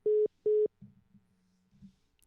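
A phone busy signal after a disconnected call: two clean, loud, identical tones, each about a quarter second with a brief gap between, followed by faint low line noise and muffled sounds.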